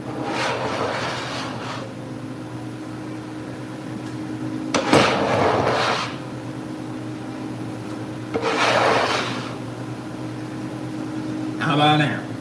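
A knife scrapes across a cut of beef in three long rasping strokes, close and loud, over a steady background hum with a voice talking.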